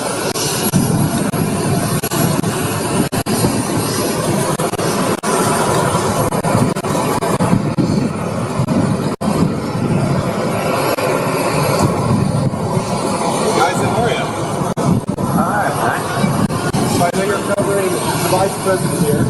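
Loud, steady roar of an airplane engine at an airport, filling the whole stretch with broadband rumble and whine, with faint voices underneath.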